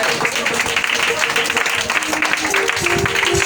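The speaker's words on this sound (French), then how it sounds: "Qui est dans la joie, acclame Jésus-Christ de Nazareth." A church congregation at a worship service applauds and acclaims Jesus Christ, with steady, lively clapping and mixed voices sustained throughout.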